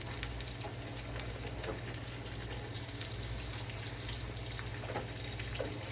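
Two eggs fry in a skillet with a steady, close sizzle that holds even throughout.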